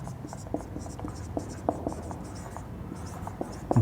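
A pen scratches steadily across paper during a lesson on the lungs, with quick irregular strokes and taps, close and fairly quiet with no talk over it.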